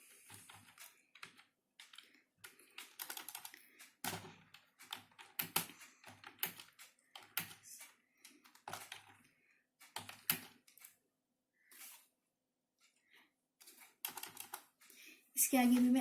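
Irregular bursts of clicky keystrokes on a computer keyboard during a class lesson on working with tables, near and fairly faint, with short pauses between runs of typing and a voice speaking at times.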